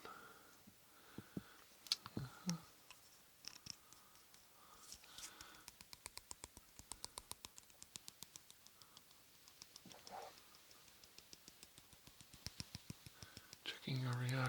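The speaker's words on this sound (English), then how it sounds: "I'm just writing some brief notes" Close, soft handwriting of brief notes in a binaural doctor roleplay, a steady run of small crisp pen clicks and scratches against a quiet hushed background, with a faint whisper early on.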